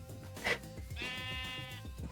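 Sheep bleating in Minecraft, two distinct bleats, a short one followed by a longer wavering one, heard alone over faint game background.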